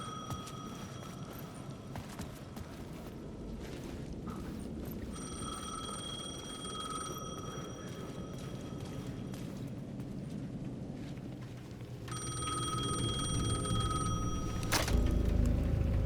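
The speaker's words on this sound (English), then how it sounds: "The payphone at the edge of the plaza was ringing again." Payphone in the plaza of the Alan Wake II video game ringing in repeated bursts, loud and clear over a dark rumbling ambient background, with a heavy low thud near the end and no one speaking.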